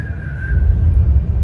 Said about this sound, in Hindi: ऐसे खड़े खड़े कैसे सीटी बजानी पड़ती है